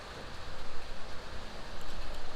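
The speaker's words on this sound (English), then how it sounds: "I think we are getting some rain." Steady rain begins falling outdoors during a knife carving session, a soft continuous hiss of drops with faint scattered patter, moderately quiet and fairly even throughout.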